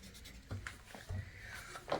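A pencil scratches numbers onto a QWIXX score sheet during a dice game, giving faint, close scribbling strokes in a few short bursts with no talk.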